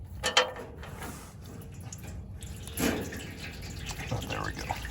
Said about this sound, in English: So we'll go ahead and spin it out now and drain the oil.